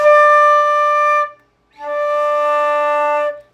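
Two flute D notes play one after the other, close and alone: first a clean tone with correct fingering, then after a short gap a second note with the first finger left down, slightly fuzzier.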